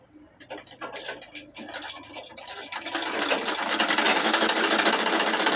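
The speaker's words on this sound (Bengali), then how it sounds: "জামার গলা সেলাই করতেছি। গলা ফিটিং করতেছি।" A sewing machine stitches the neckline of a dress, starting with a few stuttering bursts, then running steadily and loudly with a rapid mechanical whir.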